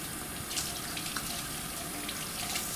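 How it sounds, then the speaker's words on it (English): Tap water runs steadily into a sink at a dental clinic for handwashing before a procedure, giving a continuous close hiss and splash with no one speaking. "So we've got the water flowing and we have soap here"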